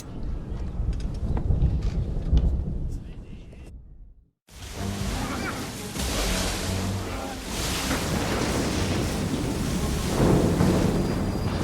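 Storm at sea in Assassin's Creed III: loud, steady roar of wind and crashing waves with rumbling thunder, cut by a brief sudden silence before the storm noise surges back.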